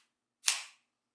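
A side charging handle racked on a Foxtrot Mike FM9 9mm AR rifle gives a single sharp metallic snap, close and loud, fading quickly, with no voices.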